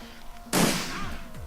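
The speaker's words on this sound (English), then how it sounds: "we'll shoot him in the face with a shotgun" A single shotgun blast in the video game Shadowrun Returns, a sharp loud burst that decays into a ringing tail over background game music, with no one talking.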